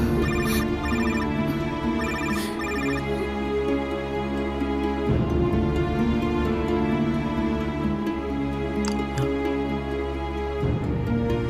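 A mobile phone rings steadily with an incoming call, a bright repeating electronic melody that plays close and unbroken, with no voices over it.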